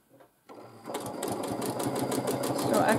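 A sewing machine starts up and runs steadily during free motion quilting, its rapid stitching getting louder as the bobbin thread runs low and snags, after a brief moment of quiet at the start.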